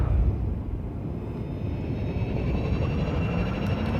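Spaceship engines engaging in the video game Elite: Dangerous, a deep, steady rumbling drone with a faint high whine above it, sustained and fairly loud, with no talking.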